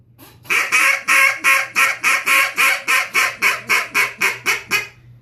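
A wooden duck call blown with a slight squeal gives a descending series of about fifteen loud, nasal quacks in a steady rhythm, close and alone, each note a bit shorter as the run tapers off.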